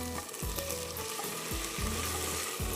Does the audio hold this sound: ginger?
yes